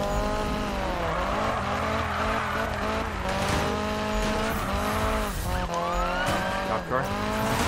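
A car in a racing video game drives at speed, its engine droning steadily while tires squeal and skid repeatedly, loud and continuous throughout.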